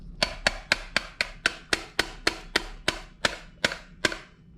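A hammer strikes a pin into a Lancer LT 7350LMN shotgun twelve times in an even rhythm, each sharp metallic tap close and loud with a short ringing decay, with no talk.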